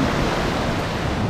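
Sea waves washing onto the shore in northern Morocco, a loud, dense rush of surf mixed with wind buffeting the microphone, continuous and close.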